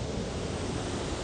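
LeConte Falls crashing onto a rock and churning into a circular water wheel makes a dense, steady rush of white-noise water, loud and unbroken, with no voices.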